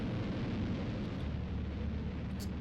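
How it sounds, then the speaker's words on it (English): Rocket touching down in a colony game, a loud continuous roaring rumble with heavy low-end thrust noise that holds steady from start to finish. "Our rocket is arriving"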